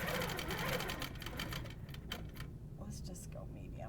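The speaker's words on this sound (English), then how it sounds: "It's gonna go ahead and start stitching" An HQ quilting machine run by a Pro-Stitcher stitches with a rapid, steady mechanical whir that grows quieter partway through, while people talk over it.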